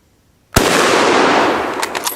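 A single German Mauser rifle shot cracks out loud and sudden after near silence outdoors, followed by a long rolling echo that slowly fades.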